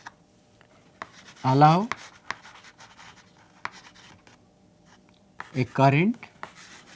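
Chalk or marker writing on a board during an electricity and magnetism lecture, faint intermittent scratching strokes between two short bursts of a lecturer's speech.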